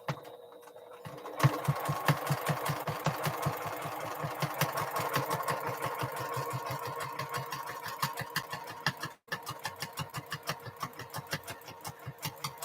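A domestic sewing machine stitches through a quilt in a rapid, steady mechanical chatter that starts after a brief quiet moment, drops out for an instant, then resumes, close and continuous with no talking.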